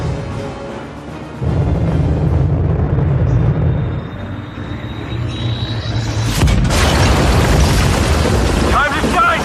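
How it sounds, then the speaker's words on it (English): A satellite turned into a bomb explodes in a science-fiction action film, with a deep, sustained rumbling roar building under a rising whine and swelling into a loud blast, while voices talk faintly. "I have one satellite-turned bomb coming in hot"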